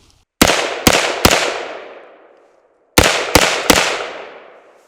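Pistol shots fired in a warmup drill, two quick groups of three sharp, loud cracks, each followed by a ringing decay, with a short quiet gap between the groups.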